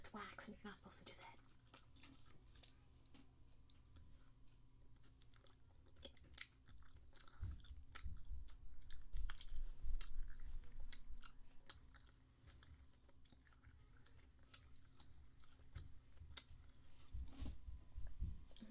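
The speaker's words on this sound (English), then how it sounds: "You guys like my chewing?" Wax bottle candy is chewed right up against the microphone, with soft irregular crunches and wet bites in an uneven rhythm, swelling in the middle and broken by faint whispered breaths.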